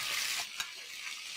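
Onion paste and ginger paste frying in hot oil for polao give a steady, close sizzle throughout, with a brief stir or scrape partway through.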